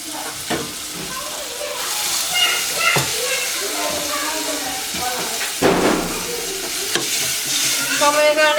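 Food stirred and fried in a pan at home, a steady sizzle with scraping stir strokes and occasional clatter of utensil on metal, close by, while people talk over it.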